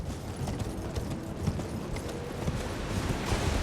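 Horse hooves clip-clop steadily at a riding pace in the fantasy game Elden Ring, a continuous galloping rhythm heard up close over a low rumbling backdrop, with no talk.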